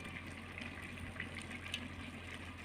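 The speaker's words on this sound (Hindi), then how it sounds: "इसको बड़े से किसी देगचे में डालकर आपने क्या करना है, पानी डाल देना है थोड़ा सा।" Water is poured into a large pot of mustard greens, a faint, steady gushing trickle with a low constant hum beneath it.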